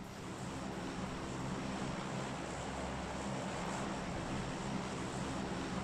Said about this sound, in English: The plane has taken off and I'm going to get the in-game audio going for you guys